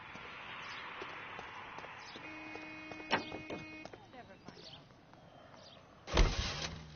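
A car drives in L.A. Noire with faint engine and road noise, scattered clicks and a heavy thump near the end, and voices talking now and then.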